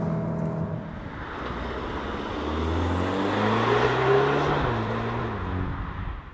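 An Audi S3 hatch accelerates from 80 to 100 on a test track, its engine note rising steadily through the gears with a shift or two, loud and close inside a sustained road roar.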